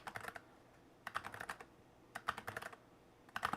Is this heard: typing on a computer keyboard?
yes